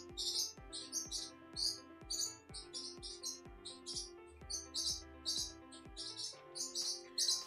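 A pet bird chirps steadily indoors in a repeated rhythm of short, bright, near tweets that carry throughout, with no talk.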